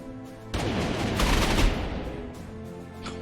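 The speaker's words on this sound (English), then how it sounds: "these anti-aircraft guns are so unbelievably vicious" Anti-aircraft guns fire in Panzer Corps 2, a World War II strategy game: a sudden dense burst of rapid gunfire erupts, peaks for a second, then trails off into scattered echoing shots.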